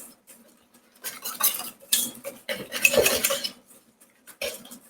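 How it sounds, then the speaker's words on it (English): A whisk beats a wet meatball mixture in a bowl like pancake batter, giving bursts of quick metallic clatter and scraping that start and stop, close and fairly loud, with no talking. "we're going to grab a whisk, and we're going to whisk this just like you're making like a batter."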